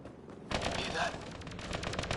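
Burst of rapid automatic gunfire in a video game firefight, starting abruptly after a brief quieter moment and continuing as a dense, loud rattle of shots with voices faintly underneath.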